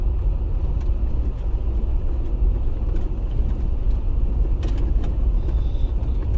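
A car with a Pedal Commander and cold air intake drives with a steady, loud low engine rumble and road noise close by, with no sharp rev spike, alone without talk.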